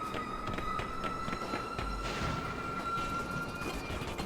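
Ghost Train enemy in the game Persona 1, a steady rumbling rail clatter with a sustained whistle-like tone and rhythmic clicking, continuous and moderately loud.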